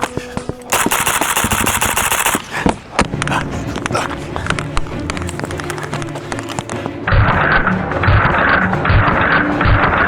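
A PTR 32P PDWR pistol firing rapid strings of loud, sharp shots at close range, bursts and quick single reports crowding together with clattering mechanical noise, followed by a rhythmic series of repeated blasts toward the end.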